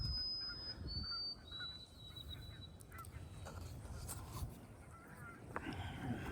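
A goose honks and gobbles a few times at moderate distance outdoors, with high drawn-out calls early on over a constant low rumble of wind or background noise.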